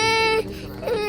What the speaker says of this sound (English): Nobody hears a toddler crying